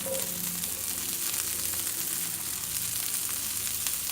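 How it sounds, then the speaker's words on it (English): Broccoli and zucchini sizzle and fry in a hot frying pan, a steady close crackling hiss that runs throughout, with faint clinks from stirring. "we got our pan nice and hot now, and I'm going to throw my broccoli in first. And throw my zucchini in with it"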